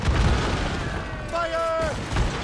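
Cannons on a sailing warship fire during a naval battle in Assassin's Creed Rogue, a deep boom followed by rumbling under a shouted command and game music.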